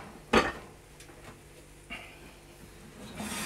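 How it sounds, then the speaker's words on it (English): Plates clatter with a sharp ceramic clunk as they go into an oven, followed by softer knocks and light kitchen clatter, close by, with no talking. "Turn the oven off, put the plates in the oven"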